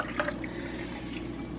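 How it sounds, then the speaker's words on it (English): Milk and heavy cream pour into a saucepan with a soft liquid splash at first, then a steady quiet trickle filling the pan, close by and with no talking. "Now we're going to pour this into our saucepan"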